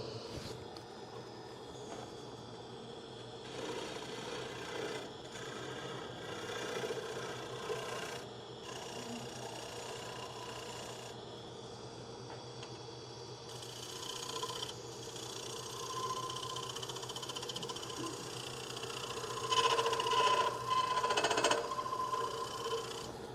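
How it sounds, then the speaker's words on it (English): A dull turning tool shear-scrapes a wooden bowl spinning on a lathe, giving a soft, steady rasping drone with a low motor hum that rises in bursts toward the end, with no talking. "I'm going to move it around, and it'll scrape the wood."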